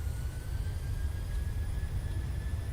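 Steady low rumble of a Boeing 737-700 jet rolling down the runway for takeoff in Microsoft Flight Simulator, engines spooling at high thrust, continuous and fairly loud with no talk.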